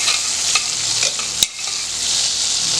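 Cumin seeds sizzling in melted butter in a pan for a palak paneer curry, a steady bright frying hiss throughout with a few soft stirring scrapes and one brief clink, no talk.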